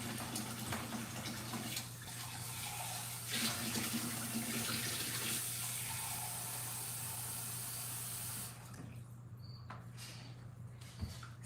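A kitchen tap runs steadily while hot water is drawn, a close, even rush of water that stops near the end, leaving a quiet room with a faint hum.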